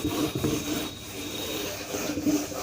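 A duster rubbing writing off a classroom board, giving a few scratchy back-and-forth scrubbing strokes that start and stop, fairly close, with no talking.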